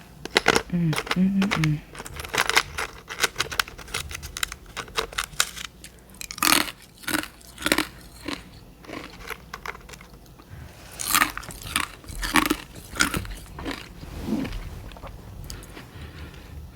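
Close, crisp crunching and chewing of carbonated ice sticks, bursts of sharp crackles one after another with short pauses, some quieter mouth sounds between bites.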